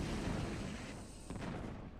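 Cannons firing in StarCraft amid a battle against Marines, Ghosts and Reavers, a dense continuous barrage of booming blasts and crackling impacts at a faint, even level.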